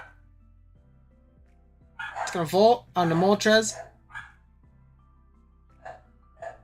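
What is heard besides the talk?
dogs barking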